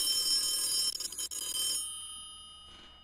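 An old-style telephone bell rings steadily in a radio drama scene, bright and continuous for nearly two seconds before cutting off, leaving a faint ringing tail and quiet room tone.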